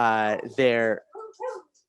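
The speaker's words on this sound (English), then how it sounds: "my dog's barking at me" A pet dog gives two quick, close, voiced barks indoors, followed by a couple of softer short yips that fade out.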